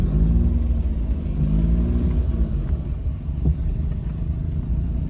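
A car engine rumbles steadily and revs up and down inside the cabin during a driving lesson, the low drone continuous throughout with some rising pitch sweeps early on.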